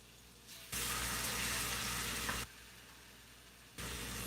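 Chicken frying in a pan, a broad hissing sizzle that swells up loudly for a couple of seconds, drops back to a quiet background, then returns near the end, with no talking.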